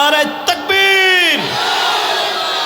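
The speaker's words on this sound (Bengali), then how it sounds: "তাহলে এবার আর একটা তাকবীর হবে।" A large crowd at an Islamic sermon gathering in Chandpur roars a loud, sustained takbir chant, one voice leading and many joining in, the shout holding and then trailing into a diffuse, echoing crowd murmur.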